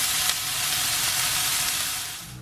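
Meatballs browning in a frying pan give a loud, steady sizzle with constant hissing, close and uninterrupted, then easing slightly at the end.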